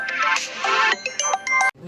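A mobile phone ringtone for an incoming call plays a bright melodic electronic tune that repeats in short phrases, then cuts off abruptly near the end.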